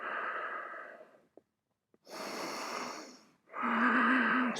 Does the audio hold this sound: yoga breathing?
yes